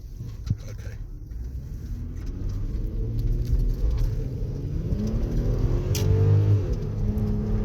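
Engine of a Porsche Cayenne pulling away and accelerating, with a steady low rumble that rises in pitch and then drops as it shifts gears, heard from inside the cabin.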